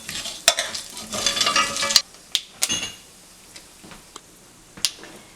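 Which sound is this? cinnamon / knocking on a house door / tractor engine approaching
cinnamon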